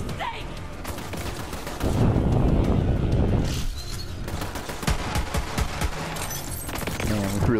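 Small guns firing in Borderlands 3, bursts of rapid gunfire with one dense loud volley in the middle and scattered shots around it, with a voice speaking at times.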